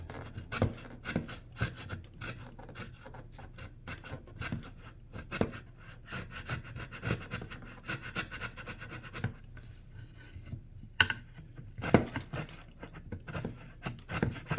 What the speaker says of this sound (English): All right, I'm gonna get on these with a chisel just a little bit.